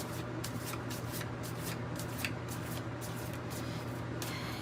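Tarot cards being shuffled by hand in a steady run of soft riffling, papery swishes, close and continuous over a faint low hum, with no talking.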